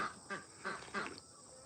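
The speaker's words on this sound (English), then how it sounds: "Lots of quacking in the background." Ducks quacking on a homestead in several short, faint bursts spaced across a quiet outdoor background, with no talking.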